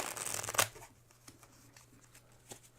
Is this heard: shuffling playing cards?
yes